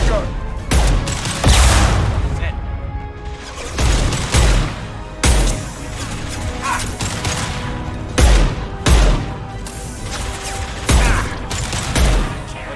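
Impact-shot gunfire in the Mass Effect 2 video game, a string of loud, sharp blasts spaced irregularly across the clip over a steady mechanical background hum.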